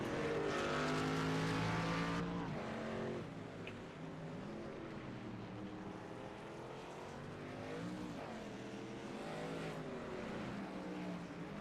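Race trucks in iRacing on the COTA road course rev continuously, engines loud and rising and falling through gear changes, with several vehicles blending together at close range for the whole stretch.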